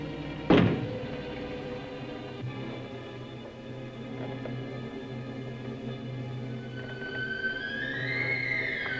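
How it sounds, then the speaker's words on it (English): One solid knock sounds from inside a closet, sharp and close, then fades into a steady low drone with a thin, rising whine near the end. "Knock once if you hear me."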